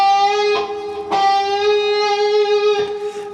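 An electric-sounding guitar sustains a blues note bent slightly between G and G sharp, held and bright with rich overtones, re-picked a few times so the sound swells again at uneven intervals.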